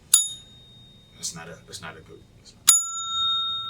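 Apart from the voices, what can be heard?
bell rung for a question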